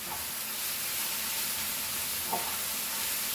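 Chicken kheema masala fries in a pan with ground spices and lime juice, giving a steady, close, hissing sizzle throughout with a couple of faint stirring clinks.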